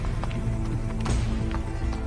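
Hooves of a donkey caravan clip-clopping in a quick, uneven rhythm, close and steady over a low rumbling background with faint music.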